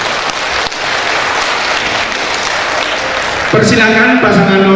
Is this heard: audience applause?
yes